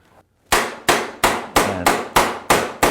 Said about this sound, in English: I whack them with a rubber hammer.